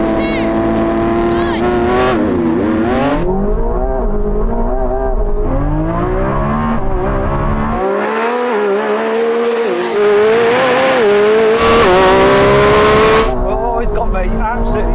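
Lamborghini Revuelto and McLaren 750S launching side by side in a drag race, engines screaming and climbing through gear changes with tire squeal, loud and close, with speech over the roar.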